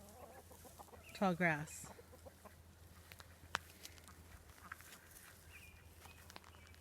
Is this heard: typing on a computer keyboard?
no